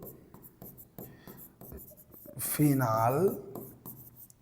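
Marker or chalk strokes on a board during a chemistry lesson on phenol, a series of short scratchy rubs spread through the clip under a teacher's spoken explanation.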